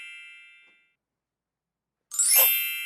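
A bright struck musical note E, sounding as a single ringing ding that swells suddenly after a fading earlier tone and a short silence, sustained and clear with no talk.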